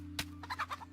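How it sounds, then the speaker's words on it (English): A game chicken in DayZ making a short burst of gobbling, clucking calls: one sharp note followed by three or four quick rhythmic clucks over a constant low electrical hum, faint and alone. "There we are, there's our chicken."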